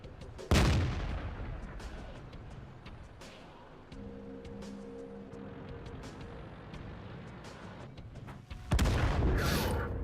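A tank gun fires in the video game World of Tanks from an Object 430 version 2, with a loud booming blast near the start, a steady rumbling engine drone between, and a second heavy shot near the end.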